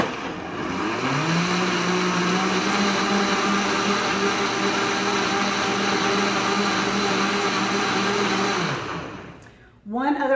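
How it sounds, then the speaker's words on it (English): A blender runs steadily for about nine seconds, whirring loud and constant as it blends coconut milk for bulletproof coffee ice cubes, then cuts out abruptly, leaving a brief clatter at the end. "So let's blend."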